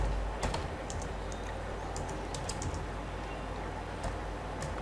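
Close, quiet typing on a computer keyboard while entering web project code, with a steady patter of soft key clicks and a few sharper taps, over a faint background hum.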